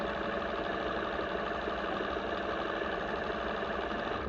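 A Singer 301 sewing machine runs and stitches in a continuous, steady mechanical whir with a fast rhythmic knocking, loud and close, with no voices.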